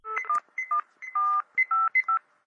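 A telephone keypad dialing a number: a quick series of about eight distinct DTMF tones, clean and close, in an uneven rhythm with short gaps between presses, no voices.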